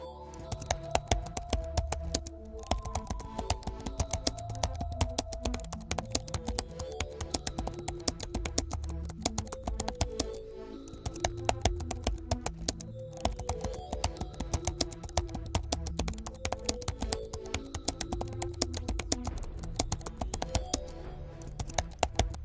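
Rapid, steady clicking of fingers typing an SQL query on a computer keyboard, close and continuous with brief pauses, no talk.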